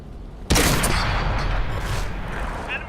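A World of Tanks tank takes a sudden loud shell hit, a single sharp boom that kicks in abruptly and then rolls into a sustained rumbling, crackling roar lasting several seconds.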